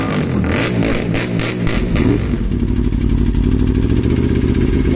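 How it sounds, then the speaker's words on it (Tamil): A 2013 Aprilia RSV4 motorcycle with an SC Project full exhaust system revs hard and close, its loud engine note swelling and then settling into a steady throaty roar for several seconds, with no talking. "ஆப்ரிலா RSV4 2013 மாடலோட exhaust sound SC project full"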